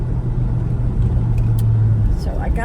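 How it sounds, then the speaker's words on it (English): Steady low engine rumble and road noise from a 20-year-old car with 81,000 miles while driving, continuous and fairly loud throughout, with a faint low tonal hum running beneath. "Yeah, I'm driving a 20-year-old car"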